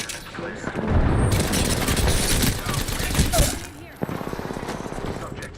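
Rapid automatic gunfire in the Apex Legends shooter game, a loud continuous fusillade of dense bursts with booming impacts, then a steadier rattling stream of shots after a brief dip, with voices mixed underneath.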